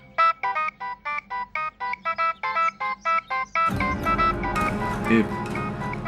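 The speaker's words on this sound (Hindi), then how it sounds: "वही फोन बज रहा है आपका, बड़ा तेज रिंगर है।" A phone ringtone chimes in a repeating rhythmic melody, loud and close, then continues under a burst of voices and noise.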